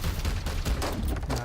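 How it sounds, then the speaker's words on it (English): Squad opening fire in a Warhammer XCOM-style tactical video game: a dense, sustained volley of gunshots rolling continuously, close and loud, with a voice talking over parts of it. "Opening fire."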